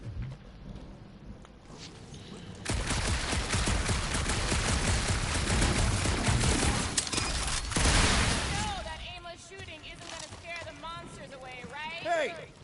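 Gunfire in the Marvel's Guardians of the Galaxy video game comes as a dense, loud burst of rapid shots with impacts lasting several seconds, followed by character voices talking.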